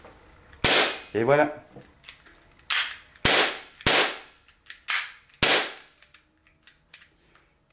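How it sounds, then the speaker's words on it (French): A Bersa BP9CC airsoft pistol replica fires about six sharp snapping shots, unevenly spaced and close, with a short spoken remark among them. "Et je vais vous faire un petit exemple de tir."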